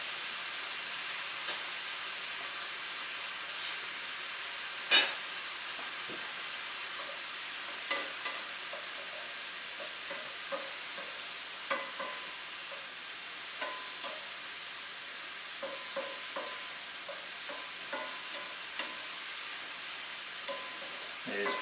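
Salisbury steak frying in a pan, a faint steady sizzle and hiss throughout with scattered small pops and crackles, no voices over it.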